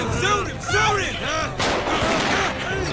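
Gunfire in an animated show, The Boondocks: sharp shots crack amid shouting voices, with screams and yelling layered over the bursts.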